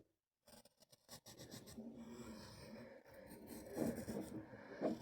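A pencil scratches and rubs across paper in short strokes and longer scribbling passes, quiet and close, with brief pauses between bursts and no talking.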